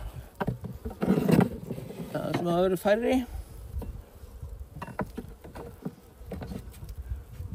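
Honeybees buzzing around an opened hive during the first spring inspection, a soft continuous drone with scattered handling noises, while someone speaks over it.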